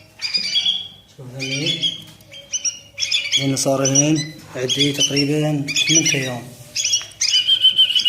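A hand-fed bulbul chick squawks in loud, close bursts, with the shrill calls repeating in clusters while someone talks over and between them.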